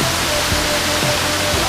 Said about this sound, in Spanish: es donde hay abundante agua y pues una serie de cataratas